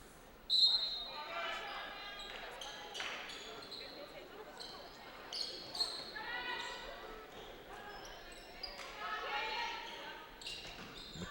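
A basketball is bounced and passed on an indoor court during a women's college game. Scattered thuds and sneaker squeaks carry over a steady gym crowd murmur, with a sharper hit near the start.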